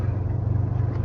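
A Jeep truck engine idles at a low, steady rumble around 500 RPM, a close, even throb with no revving over a brief moment.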